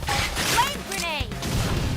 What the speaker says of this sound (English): Flame grenade.